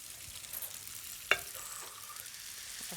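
Spelt spaghetti and mushrooms being tossed with lemon thyme butter in a pan, a faint steady sizzle with one sharp scrape or clink of the utensil partway through and another at the end.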